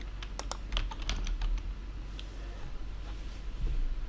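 Fingers tap out a short burst of quick, light keystrokes on a computer keyboard, clicking close and crisp, then trailing into a few scattered taps over a quiet room hum.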